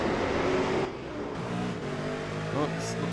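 Race cars at Oran Park circuit, engines droning and revving close by, one car's pitch rising and falling as it passes, with a commentator talking over the engine noise.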